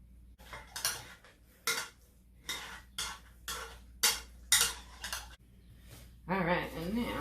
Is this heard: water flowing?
no